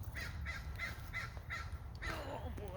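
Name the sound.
crow cawing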